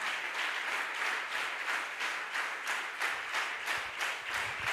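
Church congregation applauding for the Lord, a steady stretch of rhythmic group clapping with a regular pulse, moderately distant and with no speech over it.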